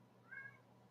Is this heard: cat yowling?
yes